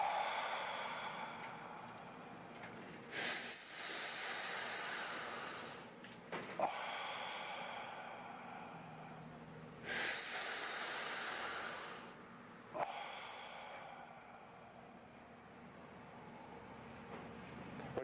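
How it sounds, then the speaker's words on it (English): Deep, slow breaths drawn in during a seated breathing exercise: two long, hissing inhalations a few seconds apart, each followed by a softer exhale, close and with no talking. "let's do 3 intakes of breath like this"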